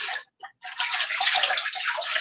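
A craft stencil lifted out of water, giving a brief splash, a short pause, then steady running and splashing water close by, with no talking.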